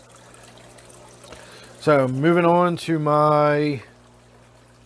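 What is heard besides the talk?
water trickling from a waterfall in a 125-gallon aquarium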